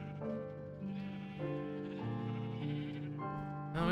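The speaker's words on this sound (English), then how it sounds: "So the sheep have got a bunch of grass to spread so they can regrow their wool." Sheep bleating in Minecraft on a farm with grass for regrowing wool: a series of drawn-out, wavering bleats following one another over a few seconds, clear and fairly close, with no talking.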